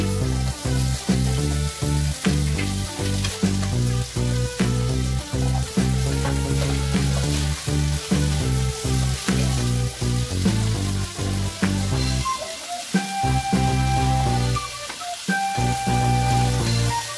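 Broccoli fries in hot oil in a home kitchen, giving a loud, steady, close crackling sizzle that continues throughout with no speech.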